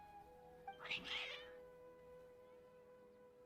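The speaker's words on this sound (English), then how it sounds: "Your cats seem pretty worked up." Agitated cats in the video game Genshin Impact let out a single short meow, faint and close, over a quiet background hum.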